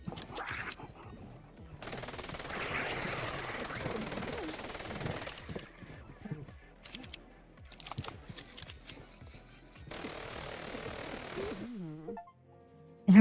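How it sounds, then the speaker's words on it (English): Gunfire at a target in the video game Polyarmory, with bursts of rapid shots and clattering game sounds in several stretches, mixed with other game noise. "we need to shoot a target"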